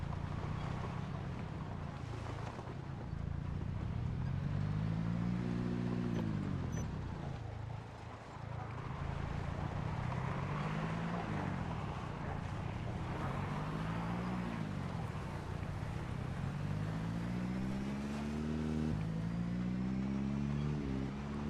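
Car engine droning and revving in Project Zomboid, pitch repeatedly rising and falling in wavering surges as the vehicle lurches along, steady and moderately loud with no voices.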